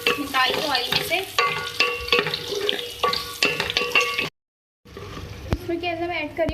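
Spices fry in hot oil for a Nawabi chicken dish, giving a busy sizzle with stirring scrapes and clinks of the pan, broken by a short silence before the frying resumes, close and fairly loud.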